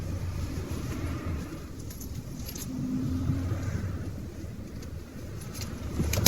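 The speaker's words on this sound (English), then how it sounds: "Traffic going past." Road traffic passes at a moderate distance, a soft continuous rumble of cars with a few swells as vehicles go by, no voices.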